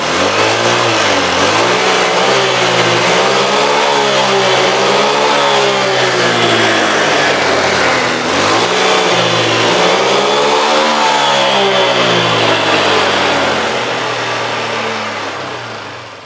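A Honda Vario 125 scooter engine revving up and down in repeated throttle sweeps, close and loud and continuous, steady drone throughout with no talk.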